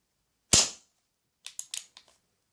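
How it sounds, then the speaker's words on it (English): One loud, sharp crack from an HWS Remington New Model Army Carbine airsoft revolver firing a single shot, with a fast decaying tail, then a few quieter mechanical clicks as the action is handled. "this has got quite a bang when you fire it"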